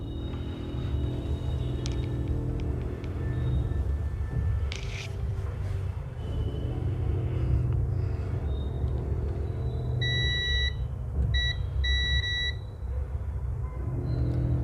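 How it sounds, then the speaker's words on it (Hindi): A multimeter on continuity gives three short beeps, each about half a second long, while probing a dead mobile phone's circuit board for a short. The beeps sit over a steady low rumble and background noise. "एक साइड तो बीप आता ही है"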